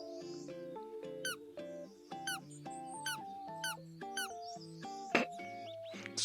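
A squeaky bird toy squeezed over and over in short, uneven squeaks with rising and falling pitch, close and fairly loud in a quiet room.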